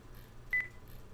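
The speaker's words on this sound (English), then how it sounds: "It beeped at me." A timer gives a single short electronic beep, clear against a quiet background hum.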